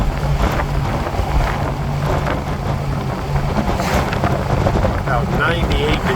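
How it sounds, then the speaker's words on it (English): A 1970 Oldsmobile Cutlass convertible with a 350 engine, top down, cruising at 65 mph in third gear, gives a loud steady rush of wind buffeting with a low engine drone beneath. "It's still a pleasure to be able to drive a 70 Cutlass with a top down."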